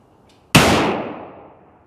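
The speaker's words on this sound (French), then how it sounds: "on va donner nos premiers nos premiers tirs avec la carabine" A single loud rifle shot from a BCL MRX Scout carbine cracks sharply nearby, followed by a long rumbling echo that fades over about a second; a faint click comes just before it.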